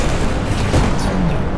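Rocket explosions go off during a BallisticNG anti-gravity race, dense booming bursts layered over constant loud engine roar and game noise.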